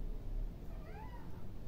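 A pet cat gives a single soft meow, faint and close, over a low indoor background hum.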